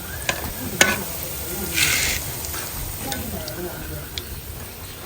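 Bofrot (puff puff) dough frying in hot oil, with a soft continuous sizzle and scattered light clicks and pops of dough hitting the oil, all at moderate level with faint background voices.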